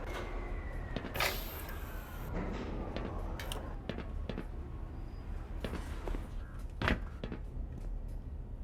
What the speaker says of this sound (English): Please stand back from the automated door.